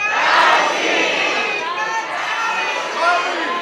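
A crowd of people shout loudly together in unison, a dense burst of many voices that stays strong for a few seconds, followed by lingering voices and chatter.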